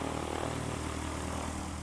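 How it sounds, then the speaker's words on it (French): A piston-engine propeller airplane drones steadily overhead, a loud continuous engine roar with a low hum that holds evenly throughout, with no voices. "on s'est fait couper par un avion thermique cette fois-ci qui voulait passer. Ça fait un peu du bruit"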